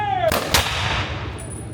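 A ceremonial rifle volley from a firing detail at a Veterans Day ceremony: one loud, sharp crack of blank rifles fired almost together, then a second report and a fading echo outdoors.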